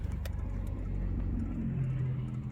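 A Lamborghini rolls by on a city street, a low, rumbling engine note that swells slightly as it passes at moderate distance, steady and fairly quiet.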